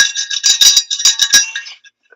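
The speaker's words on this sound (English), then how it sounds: "I tried ringing a bell" A small bell rung by hand in a run of quick bright jingling strikes, close and fairly loud, fading out into silence at the end.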